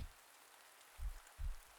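Rain falls softly in a steady hiss, with a few low dull thumps of drops striking a nearby surface, faint and close with no voice over it.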